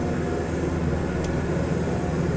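An airplane taxiing toward the runway in Microsoft Flight Simulator 2020 gives a steady, low engine drone that holds constant throughout, with no voices.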